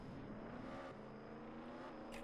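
A Bugatti in Roblox Jailbreak drives up to and under a monster truck, giving a steady, fairly loud engine drone with sustained tonal hum and a brief bright burst at the very end.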